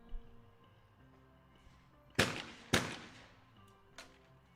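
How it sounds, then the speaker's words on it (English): Daniel Korczak fires quick skeet shotgun shots, two sharp loud blasts close together followed by a fainter third report, each with a short echoing tail over a quiet outdoor hum. "Here we see quick shooting again of Daniel Korczak"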